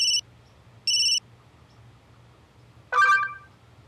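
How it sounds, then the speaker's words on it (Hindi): An incoming video call rings on a phone: two short, clipped electronic tone bursts about a second apart, then a brighter chiming burst after a pause, crisp and close over a faint hum. "अनीश का वीडियो कॉल अचानक?"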